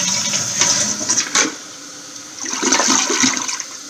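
A malfunctioning household toilet flushes with a loud rushing gurgle that cuts off abruptly, then a second weaker surge of draining water follows, with no voices.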